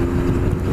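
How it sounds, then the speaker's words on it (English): Steady, smooth drone of a Honda CB1300S motorcycle engine cruising in top gear, loud and continuous with wind rush, no speech over it. "The engine is just like turbine smooth from like nothing at all."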